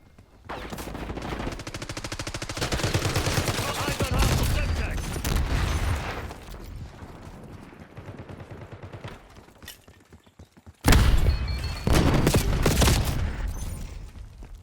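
Sustained automatic gunfire from a Black Ops 6 match, long rattling bursts with a short pause, then a sharp loud burst resuming, close and dense throughout.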